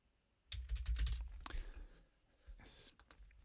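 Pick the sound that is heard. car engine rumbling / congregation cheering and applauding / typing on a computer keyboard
typing on a computer keyboard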